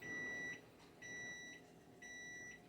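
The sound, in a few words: kitchen timer beeping for the rolls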